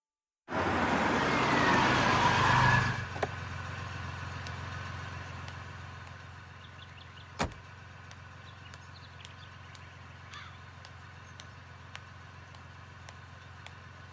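A car engine idles as a steady, low hum after a loud, rushing burst at the start, continuing quietly with no voices.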